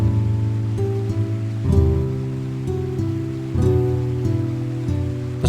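Flowing water from the Final Fantasy IX video game, a continuous rushing wash heard under a looping game music bed with sustained tonal notes that shift every couple of seconds.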